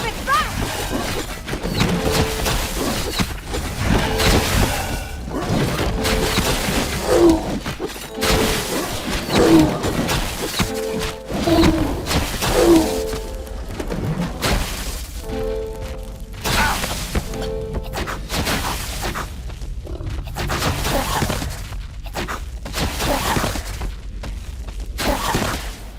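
Sacred stones of an altar barrier are struck and smashed in the game Dungeons 2, repeated heavy crashing and shattering impacts over a battle din, with a voice speaking at times.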